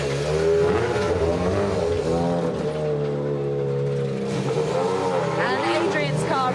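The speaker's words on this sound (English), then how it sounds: "And Adrian's car running" A WRC rally car idles and runs steadily in the service park at Rally Italia Sardegna 2024, a continuous engine drone heard close by beneath ongoing talk.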